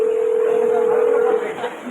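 A steady dial tone rings from a mobile phone as a number is called, a single continuous pitch lasting over a second before cutting off, followed by faint background murmur.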